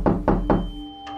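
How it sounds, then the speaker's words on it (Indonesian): Three firm knocks on a house door from outside land in quick succession, close and solid, followed by a faint fourth tap. "karena mendengar pintu rumah diketok dari luar"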